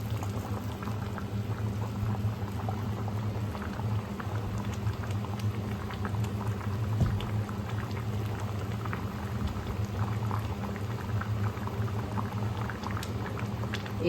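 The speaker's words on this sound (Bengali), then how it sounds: "দেখুন বন্ধুরা, ডালটা খুব ভালো করে মিশে গেছে এবং খুব ভালো করে ফুটেও উঠেছে" Lentil dal with water spinach bubbles steadily in a pot on a gas stove, a dense continuous simmer of small pops and gurgles with a few louder bursts, close and unbroken, with no voices.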